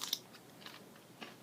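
A fresh, crispy winged bean pod being bitten and chewed up close, giving a few quiet, sharp crunches spread over a second and a half.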